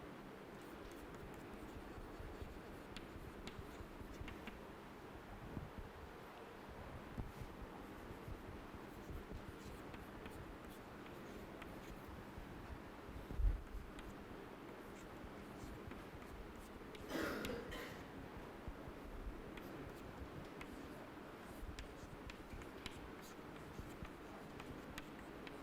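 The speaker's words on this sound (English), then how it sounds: "Now let us write the governing equation," Chalk or marker writing out a laminar-flow energy equation on a lecture board, with steady faint scratching strokes through a quiet room and a brief louder knock partway through.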